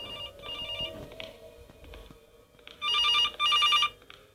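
A telephone rings in an animatronics horror video game, first faint warbling trills and then two loud, close bursts of electronic ringing near the end.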